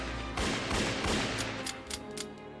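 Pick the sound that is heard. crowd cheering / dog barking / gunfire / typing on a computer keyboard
gunfire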